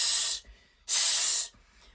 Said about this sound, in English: you should hear your airstream really loudly